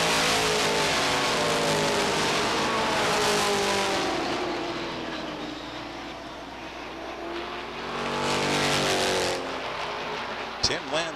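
Stock race cars at Beech Ridge Motor Speedway roar past in a 1992 weekly race, their engines swelling and fading in a loud continuous drone while an announcer commentates over them.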